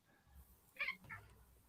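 A hungry pet cat begging for its biscuits, giving a short two-part meow at close range, fairly faint, in a quiet room.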